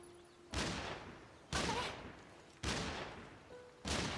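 Four sharp rifle blasts from a staff that works as a rifle in Atelier Yumia ring out about a second apart, each ending in a trailing decay.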